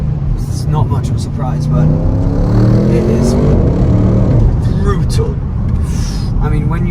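An Audi RS6 engine roars under hard acceleration with a rising, loud drone over several seconds, while someone talks over it from inside the cabin.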